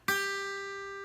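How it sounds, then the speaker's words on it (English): A single plucked guitar note, first string at the third fret, rings out clearly and sustains, slowly fading over about a second. "we play that note on the 3rd fret of the 1st string"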